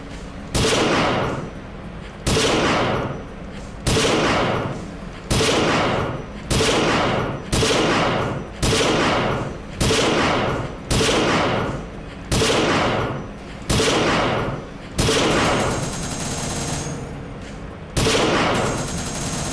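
Video game gunfire comes in repeated loud bursts, each a sustained roar of rapid shots about every one and a half seconds, close and dominant, with one longer burst near the end.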